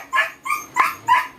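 Several pet dogs bark in a steady run of four or five rhythmic barks, close and fairly loud, with no talking.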